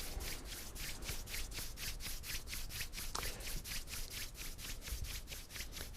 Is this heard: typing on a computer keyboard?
no